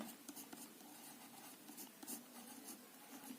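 Writing on paper or a board during a class 12 physics lesson, a faint, continuous scratch of strokes with small irregular taps, quiet and close, with no talk.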